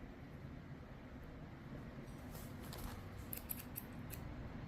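Small scissors open and close during a craft project, giving faint crisp clicks that cluster toward the end over a steady background hiss.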